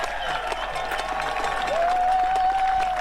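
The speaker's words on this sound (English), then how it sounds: "Big crowd cheering." A big crowd cheers and applauds steadily after a man's ladder dive into water, the broad roar holding throughout with a rising whistle near the end.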